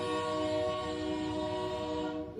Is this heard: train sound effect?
yes